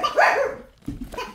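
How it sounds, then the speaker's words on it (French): A small dog yaps nearby, one loud high bark followed after a short pause by a couple of quicker, lower yips, with no talking over it. "Non, non, jappe pas, jappe pas."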